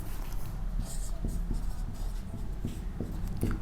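Handwriting with a pen during a math lesson, soft scratchy strokes and light taps over a low steady hum, close and fairly quiet.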